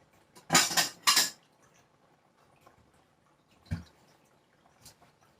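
Dishes and cutlery clattering as a bowl is fetched in a kitchen, two loud bursts of clinking close together, then a softer clink and a faint tap, with no voice.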